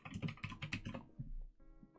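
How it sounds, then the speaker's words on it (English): Quick, soft keystrokes tap out a search on a computer keyboard in an irregular rhythm, close and quiet, with no voices. "Let's go to Google and type in personal loans."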